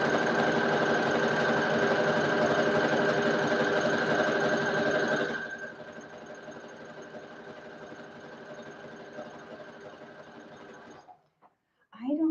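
A sewing machine stitches stretch knit fabric in a steady, loud mechanical whir that drops to a quieter, even running rhythm midway before stopping near the end, with a brief thump as it halts.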